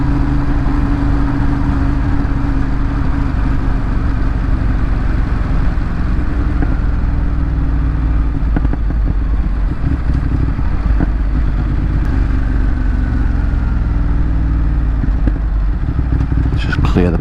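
A motorcycle due for a belt service runs loud and close throughout, its engine holding a steady rumble with occasional clattering bursts as the exhaust pipes are cleared.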